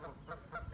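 Geese or ducks in a park honk three times in short, evenly spaced calls at a moderate distance, and nobody speaks over them.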